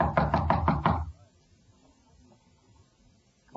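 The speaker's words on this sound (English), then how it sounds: "Knock again." A door in an old-time radio drama takes a rapid series of about five solid knocks, close and loud, then near silence follows.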